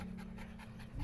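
Puppy panting in quick, steady breaths close by, soft and continuous with faint room noise and no talk.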